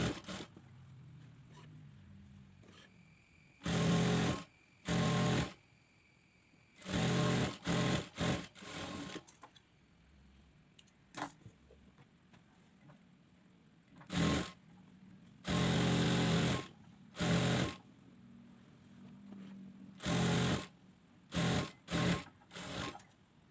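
Sewing machine stitching pieces of a frock top together, running in repeated short bursts of a second or so, separated by quiet pauses, close and steady.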